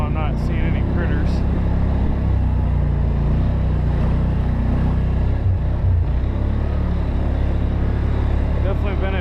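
A four-wheel-drive quad grinds steadily through deep mud and snow on a hunting trail, its engine droning loud and close without a break the whole time.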